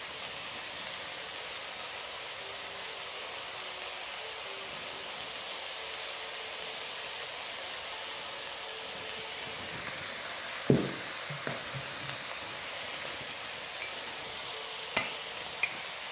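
Sweet sauce poured into a sizzling stir-fry pan of Thai basil chicken with tofu, a steady soft hiss of frying throughout with a few sharp clinks and taps of the utensil or pan near the end.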